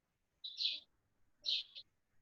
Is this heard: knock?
no